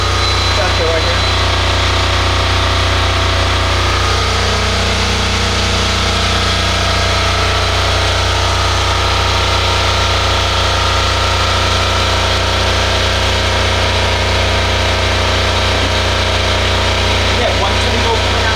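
A hybrid solar generator's engine runs steadily throughout, a constant low droning hum with a higher whining tone layered above it, close and loud with no break.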